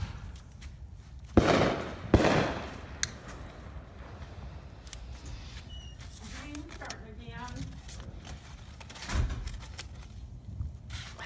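Fireworks go off on Bonfire Night, two sharp nearby bangs with crackle early on and another burst near the end, along with scattered whistling fizzes, while people talk throughout.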